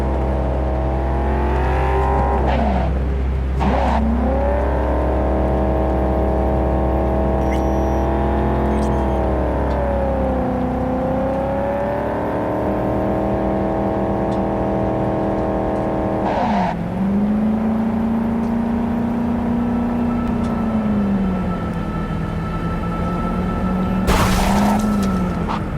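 A car in the video game Cyberpunk 2077 drives up to a checkpoint. Its engine drones loud and steady throughout, its pitch rising and falling as it accelerates and slows, with a low rumble easing off partway through.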